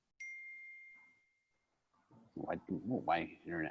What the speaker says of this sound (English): My text message just went off